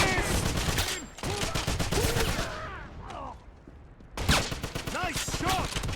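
Dense bursts of gunfire and rapid machine-gun volleys in the Wolfenstein shooter on Xbox 360, loud and continuous with a short lull midway before the shooting resumes, mixed with shouted combat voices.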